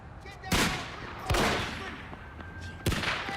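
Gunfire from a crime drama episode about stray rounds: three sharp, loud shots spaced about a second apart, each trailing into a rumbling echo, with no voices in between.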